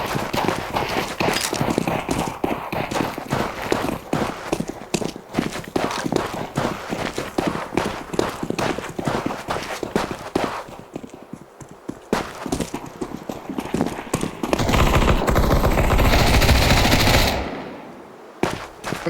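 Video game footsteps heard through a gaming headset, a dense run of rapid hoof-like thuds mixed with bursts of gunfire, loud and busy, later swamped by a sustained roar before cutting off.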